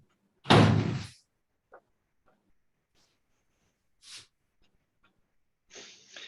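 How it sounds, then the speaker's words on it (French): A door shut once with a loud close thud, followed by a few faint clicks and rustles, then a softer brushing sound near the end, in a quiet room. "je vais juste fermer la porte"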